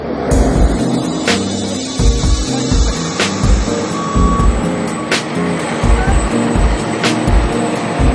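A garbage truck reverses at a landfill to unload, its reversing beeper sounding steadily about once every two seconds over a loud, continuous diesel engine rumble.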